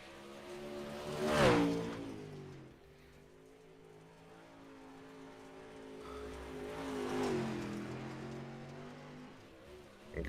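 Dirt modified race car rolling out onto the USA International Speedway dirt oval, its engine swelling loudly past near the start, easing to a lower drone, then building again toward a second pass.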